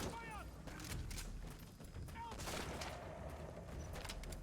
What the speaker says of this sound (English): It's just a random sniper.